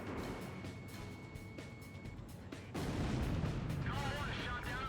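Heavy, rapid cannon and gun bursts rattle through an aerial dogfight in Ace Combat Zero, booming under radio chatter and growing louder and denser partway through as jet noise swirls behind.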